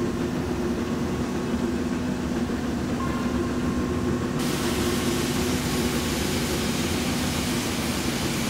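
A Black Five steam train rumbling through a tunnel in a railway video game: a steady, loud, reverberant roar with a low droning hum, and the tone brightens partway through, with no talking.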